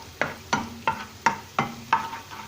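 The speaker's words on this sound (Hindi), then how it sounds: "थूम ये आस्ते आस्ते फ्राई पई थिए।" Garlic cooking slowly in oil for dry beef chilli, a gentle sizzle broken by six regular, sharp scraping stirs about a third of a second apart, close and clear with no talking.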